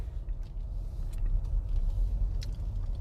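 A car moves off slowly and smoothly during a UK driving test, its engine giving a low, steady rumble from inside the cabin with faint clicks and rattles, and no talking.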